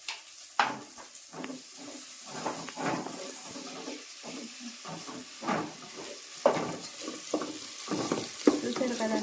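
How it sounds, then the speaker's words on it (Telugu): Tomatoes going into a hot pan for a school food festival dish, with a steady sizzle and frying hiss broken by repeated stirring scrapes and clinks, heard close by. "ఇప్పుడు నేను టమాటాలు వేసేస్తున్నాను."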